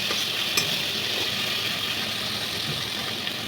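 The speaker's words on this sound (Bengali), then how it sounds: "পরিমাণ মতো চিনি দিয়ে ভালো করে মশলাটাকে কষিয়ে নেবো।" Spice paste with ginger and sugar sautéing in a pan for a sweet prawn dish, a steady broad sizzle and hiss with faint stirring scrapes, constant and close, no talking.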